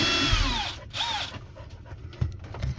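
A power drill whines in short bursts as it backs screws out of an RV bathroom ceiling fan, loud and close, with a dog panting nearby and no talking.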